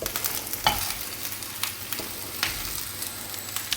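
Mushrooms and peppers frying in red-tinged olive oil for a steak night meal, with a steady close sizzle and a few sharp stirring knocks and scrapes, no talking.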